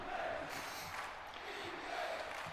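A stadium crowd in the NCAA Football 06 video game swells in a steady roar of cheering, distant and broad, with faint shouts rising near the start and end.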